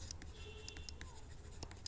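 Faint chalk or marker scratches on a board while working a fraction problem in a seventh-grade math lesson, short bursts of stroking in a quick irregular rhythm, quiet and close with no talk.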